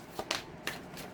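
Tarot cards being shuffled, three quick riffling bursts close by in a quiet room.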